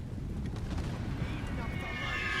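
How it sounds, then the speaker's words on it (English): Continuous low rumbling from an artillery barrage in the World War I game The Great War, on the Serbian front against Ottoman positions, with dense overlapping booms and a steady roar held at constant loudness throughout. "Let's go ahead and barrage to get as much shot in there as possible"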